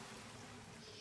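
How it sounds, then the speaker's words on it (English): Cooked orzo pasta being strained, a soft continuous pour and trickle of water through a strainer, faint and steady throughout. "So what we're going to do with that now is I'm going to strain it."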